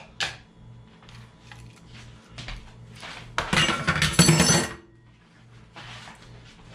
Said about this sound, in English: I'm gonna throw some ice cubes in here to make it nice and cold.